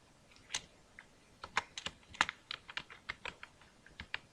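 A name being typed on a computer keyboard: about a dozen quiet, irregular keystroke clicks in quick succession, close and alone.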